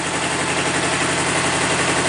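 Hydraulic pump on a Kubota B7000 compact tractor running with the engine, a steady droning hum with constant mechanical vibration, close and unchanging throughout.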